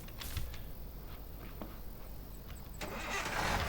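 A car engine in the video game Thief Simulator cranks with a few faint clicks and starter whirrs, then catches and settles into a low, rising idle rumble near the end.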